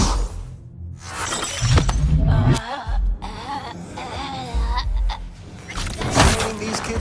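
Glass shattering in Cyberpunk 2077, with sharp bright crashes and debris bursts over a busy game soundscape with rumbling effects, several impacts across the stretch, fairly loud.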